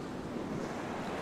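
Waves surge and wash steadily near an island crater lake shore, a dense, continuous roar mixed with wind buffeting the microphone and no voices.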